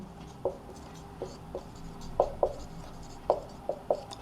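Writing out a matrix definition by hand produces a series of short, distinct tapping strokes in an irregular rhythm, close and fairly crisp against quiet room noise.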